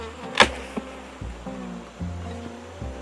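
Honey bees buzzing after being stirred up at an open hive, a low droning hum close by, punctuated by a sharp knock and a few duller bumps.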